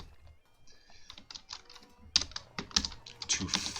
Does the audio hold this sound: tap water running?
no